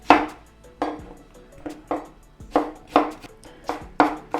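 Onion being finely chopped with a knife on a board for a chickpea-flour salad, about nine crisp, evenly paced thuds close up, each with a sharp knock and brief rattle, no voices.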